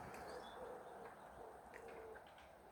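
Pigeons in a loft give soft, low cooing calls that run steadily under a hum of room noise, with a few brief higher chirps near the end.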